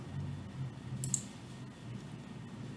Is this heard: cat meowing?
no